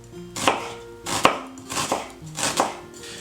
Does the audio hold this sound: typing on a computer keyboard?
no